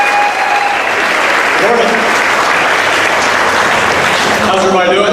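Warm, steady audience applause for a congressman at a breakfast gathering in Hot Springs Village, loud and sustained throughout, with a voice speaking briefly near the end.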